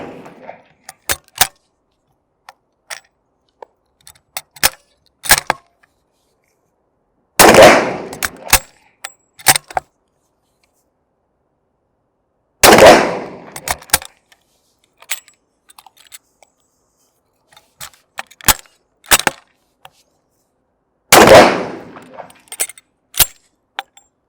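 A Vetterli rifle fires three loud, sharp shots spaced several seconds apart, with scattered metallic clicks and clinks of the action between them.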